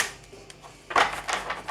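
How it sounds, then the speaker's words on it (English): A deck of tarot cards being shuffled, the cards slightly sticky, with soft riffling rasps that build into a louder burst of card flicks near the end. "These are shuffling a little bit stickier than they have done in previous piles."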